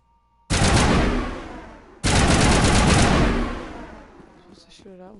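Two loud, heavy blasts of gunfire in the video game Mass Effect, each a sharp onset followed by a long rumbling decay, the second trailing off into a brief warbling electronic tone.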